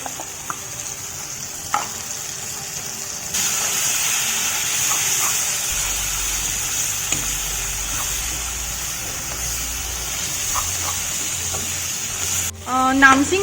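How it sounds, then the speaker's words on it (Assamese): Namsing, a fermented Mishing preparation, is stirred into half-cooked tomatoes in a hot pan, giving a steady sizzle and hiss with occasional scraping clicks of the utensil throughout. "এয়া আমাৰ গোটেই নামচিংখিনি ইয়াত মিলাই দিছোঁ।"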